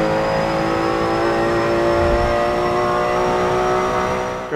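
Racing car engine in Forza Motorsport 7 driven hard, a loud steady high-revving drone held throughout with a slight rise in pitch, close and continuous with no talk.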